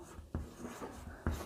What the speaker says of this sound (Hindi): ऐसे लिखेंगे